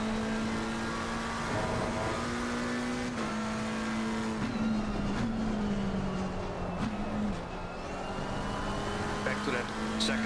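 Race car engine in a sim racing game at Watkins Glen, holding a steady droning pitch with slight shifts and brief revs, loud and continuous, with a voice talking over it at times.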